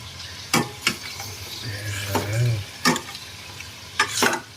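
Chicken adobo is stirred in a frying pan, a spatula scraping and knocking in several distinct strokes over a soft sizzle, with a brief murmur of voice in between.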